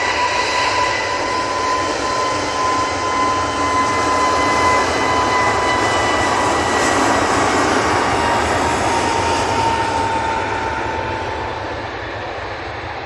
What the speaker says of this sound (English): Jet 2, A321 Neo, now on the roll.